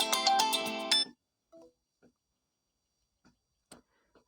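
A phone rings with a loud, bright electronic tone for about a second, then stops, leaving a few faint scattered ticks and taps in near silence.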